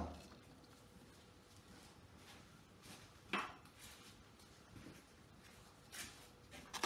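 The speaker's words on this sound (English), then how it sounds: "With a nice big palette knife. And as you can hear, it really does sound like some sort of a concrete or something like that." A big palette knife scrapes and smooths Resi-crete, a gritty, concrete-like scraping heard as faint, intermittent strokes with a few sharper clinks between quieter passes.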